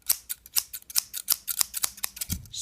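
Scissors snip steadily, about a dozen crisp close cuts in an even rhythm while paper is trimmed for a handmade flower craft, with a soft thump near the end.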